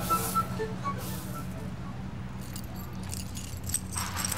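A bunch of house keys jangles in a few metallic shakes, moderately near, over a low steady hum and faint background noise, with no talking.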